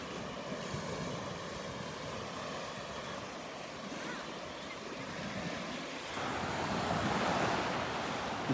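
Ocean waves wash onto the beach at Delnor-Wiggins in a steady broadband roar with wind buffeting the microphone, swelling louder toward the end, no talking.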